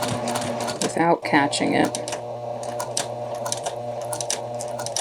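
A sewing machine stitches along a fold on a two-piece collar with a stand, its rapid mechanical chatter running steadily beneath a person speaking close by.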